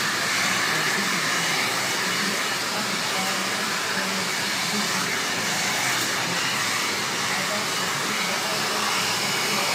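A hair dryer blows hair dry with a loud, steady, close whooshing roar that holds constant without pause for the full length.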